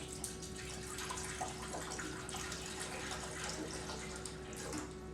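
Liquid pours steadily into a container while making a smoothie, a continuous close splashing gush with no talk over it.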